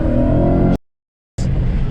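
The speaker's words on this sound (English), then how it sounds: "first startup of the VMP Gen 2R has been successful" A Ford Mustang GT V8 fitted with a VMP Gen 2R supercharger runs on its first startup, a loud, steady, deep engine drone that cuts out abruptly and then comes back.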